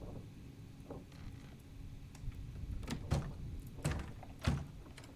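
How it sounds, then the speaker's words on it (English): A locked door rattles in the video game Return of the Obra Dinn, a run of sharp knocking clunks that grow louder and closer together, heard faintly over a low background hum. "That door is locked for some reason."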